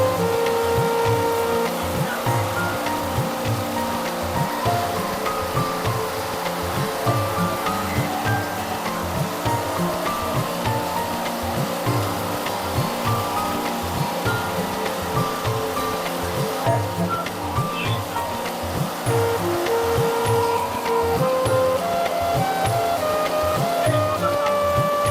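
A 3-in-1 mini rice mill runs continuously, producing a loud, steady mechanical roar with a rapid rhythmic pulsing beat and a grinding rush throughout.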